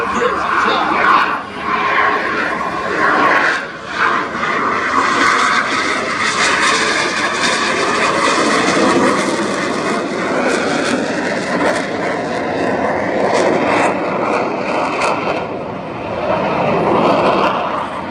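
Frecce Tricolori Aermacchi MB-339 jets roaring continuously overhead during an air display at RIAT 2025, a broad sustained engine wash rising and falling in intensity, with a commentator talking over it.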